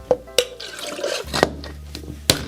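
Whiskey sour being poured from a cocktail shaker after a quick shake, a short liquid splash and trickle with a couple of sharp clinks, close and fairly loud, with no talking.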